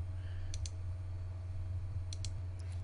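Two pairs of quick computer mouse clicks while saving a file, sounding sharp and close over a steady low electrical hum.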